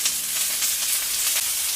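Köfte meatballs sizzle in hot oil in a pan, a steady close, dense frying hiss with faint crackles throughout and no voices.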